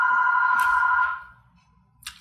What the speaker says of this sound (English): Stupid phone. I'm just gonna wait for it to stop ringing